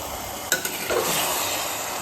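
Marinated mutton sizzles and fries in spiced oil in a pan, with stirring scrapes near the start and a steady, close frying hiss throughout, no talk.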